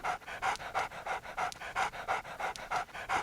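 Hewie, a dog in the video game Haunting Ground, pants steadily and rhythmically, about a dozen quick breaths close up and alone.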